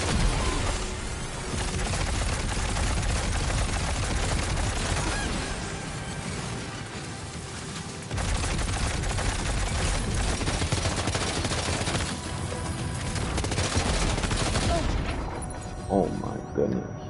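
Sustained bursts of enemy gunfire aimed at the player in Death Stranding 2, dense rapid shots with booms and crashes that stay loud for most of the stretch and briefly ease off near the end.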